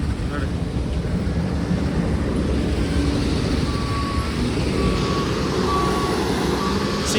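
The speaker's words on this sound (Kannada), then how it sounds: "ಒಂದು 12 ವೀಲ್ ನ ಲೋಡ್ ಮಾಡಿ ಕಳಿಸ್ತಾ ಇದೆ ಗಾಡಿ ಲೋಡರು" A wheel loader works at a large stone crusher near Hosahalli, Tumkur, loading a 12-wheel tipper truck: a steady, loud diesel rumble with continuous machinery drone and intermittent reversing beeps throughout.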